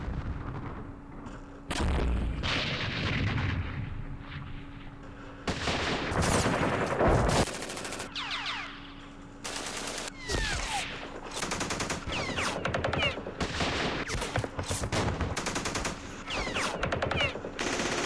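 Machine gun fire in the Vietnam wargame Campaign Series, repeated bursts of rapid gunfire and artillery-like booms in separate loud blocks, mixed with game effect sounds.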